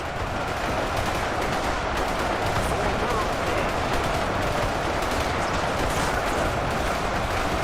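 Massed soldiers firing weapons in Ultimate Epic Battle Simulator 2, a constant dense crackle of overlapping gunfire with no clear gaps, steady and moderately loud throughout.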